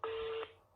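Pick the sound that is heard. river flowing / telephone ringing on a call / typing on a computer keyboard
telephone ringing on a call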